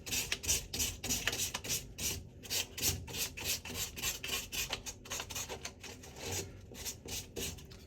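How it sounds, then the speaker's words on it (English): Body filler being hand sanded with 320 grit sandpaper for a light finishing pass before paint, giving a steady run of close, rhythmic rasping strokes that continue without pause. "just to give it a bit of a light sand, get off any excess that I didn't need"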